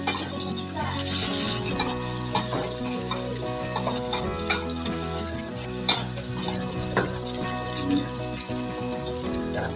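Shrimp paste (terasi) sizzling loudly in a hot pan as it is stirred, with steady frying crackle and occasional scraping of the utensil, close up; a person speaks briefly over it.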